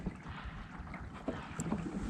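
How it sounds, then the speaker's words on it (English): A canoe or kayak paddled across open water on a windy day, with soft splashing strokes and faint dripping close by over steady wind noise on the microphone. "I'm gonna have to paddle all the way down to the west side of this thing"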